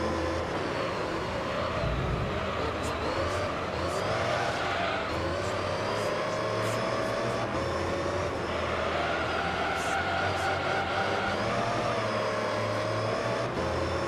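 A race car in Gran Turismo 3 roars along while its tires slip and squeal, a steady engine drone with rising and falling whine and scattered skidding noise, loud and continuous with no talking.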